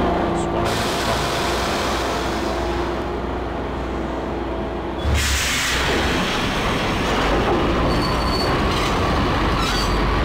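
A train in Max Payne rolls along rails, loud and continuous with squealing wheels and rumbling rail noise, a sharp burst partway through.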